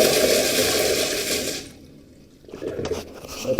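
Sloan automatic flushometer toilet flushing with a loud rushing surge of water that cuts off abruptly, followed by a short quiet gap and then softer refill trickling and gurgling.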